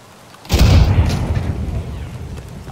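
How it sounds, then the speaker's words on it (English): A grenade detonates in Escape From Tarkov with a single loud, close blast that hits suddenly, then tails off into a long, rolling rumble. "Throwing a grenade."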